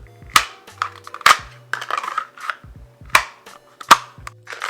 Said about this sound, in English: when you reholster this gun, you can hear that positive click